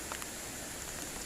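Rain falling outdoors at night near a bridge, a steady faint hiss of drops spread evenly through the short stretch, with no distinct voices.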